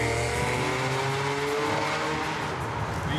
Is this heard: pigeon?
no